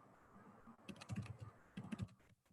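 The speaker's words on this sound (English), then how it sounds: "You should be seeing this typing in real time" Typing on a computer keyboard, with two quiet bursts of rapid, uneven keystrokes separated by a short pause, fairly close but faint, with no talking.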